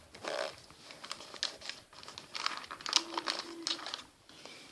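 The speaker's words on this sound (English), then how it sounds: "What we're going to do is fold the tip in just a little bit." Wrapping paper crinkles and rustles as its tip is folded on a present, a close, quiet run of irregular crackles and soft creases.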